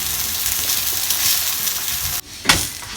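A palak paneer paratha fries in ghee on a hot pan with a loud, steady sizzle, briefly cut off and then flaring again as the bread is turned or pressed.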